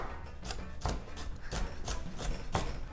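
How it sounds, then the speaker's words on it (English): A knife julienning a carrot on a cutting board, making a steady series of crisp, close chopping taps about every third of a second, with no voices over them. "I'm going to julienne the carrot"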